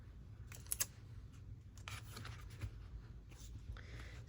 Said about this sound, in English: Let me use a little bit of clear tape first.